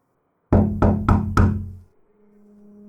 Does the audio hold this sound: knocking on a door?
yes